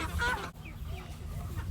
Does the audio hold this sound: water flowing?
no